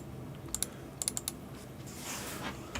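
Someone types a few quick clicks on a computer keyboard, sharp and close, in two small clusters, followed by a softer rustling in a quiet room.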